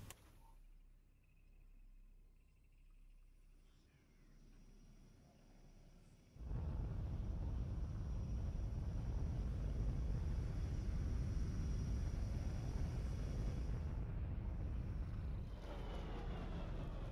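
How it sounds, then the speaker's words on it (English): A spaceship comes in to land in X4: Foundations: a quiet hum gives way to a sudden, loud, sustained roaring rumble that holds steady for about ten seconds before easing slightly. "And that's what you're going to be seeing here when this ship comes in for this landing right here."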